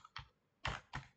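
Several crisp keystrokes on a computer keyboard as a DNS lookup command is typed, with short irregular taps separated by brief pauses, close and fairly quiet.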